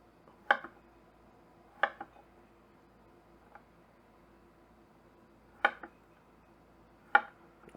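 A Shun Sora chef's knife slices cleanly through food on a board, producing four crisp, distinct cutting taps spaced a second or more apart, plus one fainter tick, in an otherwise quiet room.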